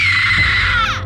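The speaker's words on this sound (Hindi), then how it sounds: "एक जोर की चीख उस सन्नाटे में गूंज उठी" A single loud, shrill scream rings out in an otherwise silent horror-story scene, sustained for about a second before its pitch bends downward and breaks off at the end.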